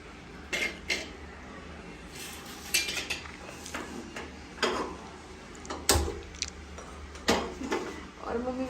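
A knife chops onion in a home kitchen, giving sharp, irregular knocks against a board with occasional utensil clatter and a cough nearby.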